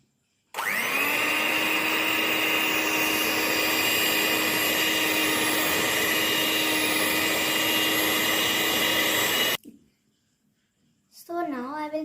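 An electric mixer whirs steadily for about nine seconds as it beats cake batter with vanilla essence, then cuts off abruptly, followed by a short pause and a voice speaking.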